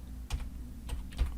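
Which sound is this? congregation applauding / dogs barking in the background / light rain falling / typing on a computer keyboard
typing on a computer keyboard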